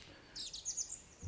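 Short bird-chirp sound effect: a few quick high tweets in a rapid cluster, faint over a quiet background.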